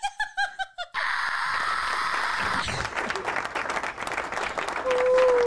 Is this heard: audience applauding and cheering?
yes